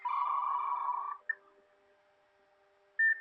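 A dial-up modem handshake: a steady tone for about a second, a short chirp, a faint low hum, then a sudden loud burst of tones near the end. The sounds are clear and close, with no voices.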